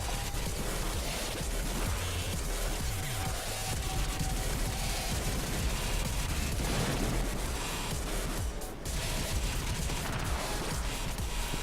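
A minigun fires in the Warframe game, a dense, loud, continuous hail of rapid shots mixed with booming impacts and crashes, running without pause nearly the whole time.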